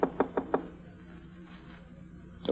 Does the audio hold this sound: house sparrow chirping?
no